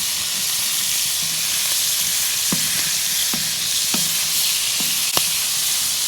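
Bacon frying on a flat griddle of a Sunterra 48-inch outdoor Santa Maria grill, a steady dense sizzle with a few small pops and crackles scattered over it.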